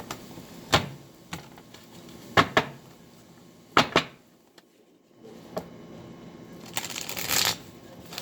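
Tarot cards being shuffled, several crisp riffling bursts at irregular intervals in a quiet room, with a longer riffle toward the end and no talking.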